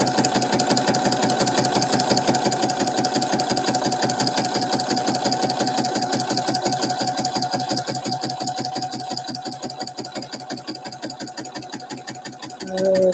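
A sewing machine stitches a pocket in a fast, steady mechanical chatter that runs loud and continuous for the whole stretch, with a slight shift near the end.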